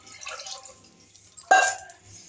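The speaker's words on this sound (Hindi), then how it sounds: "1/2 kg चावल है ना, उसके हिसाब से मैं पानी डाल रही हूँ" Water poured from a mug into a cooking pot for half a kilo of rice, a soft trickle followed by a brief louder splash.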